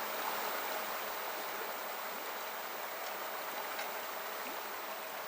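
Cold, clear mountain stream water on a high plateau, thawed river water flowing toward the Tumen River, a steady broadband rush and babble held at an even level throughout without a break.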